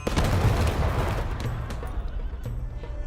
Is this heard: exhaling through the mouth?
no